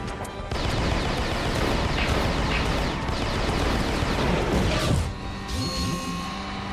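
Enemy gunfire in a Transformers video game, a dense, sustained barrage of crashing shots and blasts that dominates throughout before easing into lighter impacts near the end.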